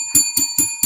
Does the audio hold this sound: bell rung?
yes